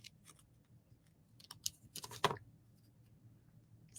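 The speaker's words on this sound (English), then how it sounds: "So I'm just going to kind of fussy cut." Scissors fussy cutting decorative paper for a post-it note holder craft, a few quiet, scattered snips and crisp paper rustles in close, near-silent surroundings, with one louder cluster of cuts in the middle.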